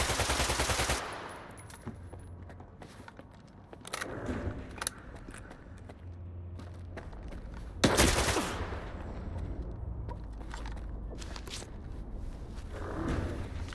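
Gunfire in the video game Stalker 2: several sharp, loud shots crack at irregular intervals, some in quick bursts, with footsteps and equipment rattling between them.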